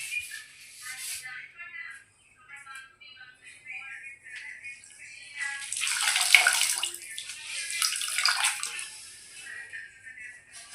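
Wet scrubbing of a wall with liquid soap, water and a scouring pad, splashing and swishing in bursts that swell louder in the middle, with faint voices underneath.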